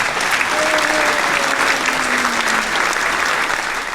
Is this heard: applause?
yes